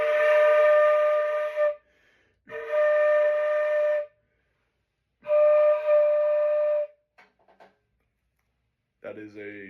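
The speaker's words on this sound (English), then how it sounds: "is a D, in case you're curious, on the flute." A flute sounds a D note in three steady, clear held tones separated by short pauses, fairly loud and close, followed by a few faint clicks and a brief bit of speech at the end.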